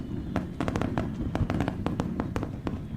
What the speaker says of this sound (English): Japan launched a beautiful fireworks display for America's 250th birthday in Tokyo.